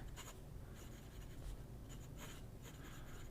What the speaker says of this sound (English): Got a Delta 14 karat nib, and it just writes so spectacularly.